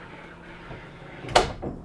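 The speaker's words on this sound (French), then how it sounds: "Donc, on a une porte coulissante ici pour accéder à la salle de bain" A sliding door to the bathroom in a custom-built tiny house rolls along briefly, then ends in a single sharp knock as it closes, heard up close with no one talking.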